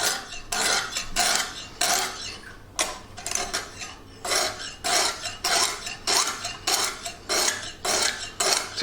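A badly worn kitchen knife is drawn repeatedly across a hone in a clamp-style sharpener, making bright, rasping metallic scrapes in a steady rhythm of about a dozen strokes, loud and close, with no talking.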